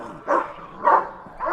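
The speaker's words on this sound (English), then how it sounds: "All right, the dogs are playing." Indoor dogs at play let out three short, close barks spaced evenly about half a second apart, with a yippy, playful tone.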